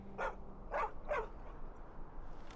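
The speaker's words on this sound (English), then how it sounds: "And what a dog." A dog in the video game Skyrim gives three quick barks in a row, clear and fairly close, followed by quieter background ambience.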